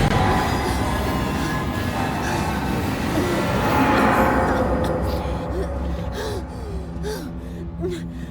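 A train rumbles past in the video game Alien: Isolation, a dense rolling roar with metallic squeals and clanks that stays loud, then thins toward the end. A short gasp is heard in it.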